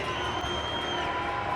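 Hockey fans in an ice arena cheer and shout in a steady, dense roar that fills the whole moment, with a sustained tone ringing through the crowd noise.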